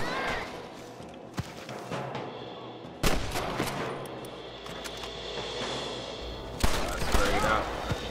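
Shotgun gunfire in Red Dead Redemption, several sharp loud blasts spaced a few seconds apart amid other scattered shots and clatter, with people talking in between.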